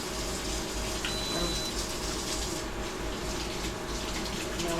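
A kitchen tap runs steadily for hands being washed, a loud, close, continuous rush of water with nobody speaking.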